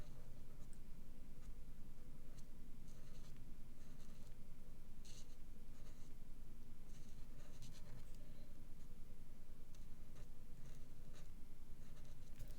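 A pen or marker draws lines on a handmade Stampin' Up birthday card, giving a steady, quiet scratching and scraping of strokes that continues close up with no talking.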